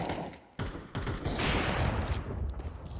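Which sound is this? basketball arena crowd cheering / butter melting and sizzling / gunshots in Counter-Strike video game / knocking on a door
gunshots in Counter-Strike video game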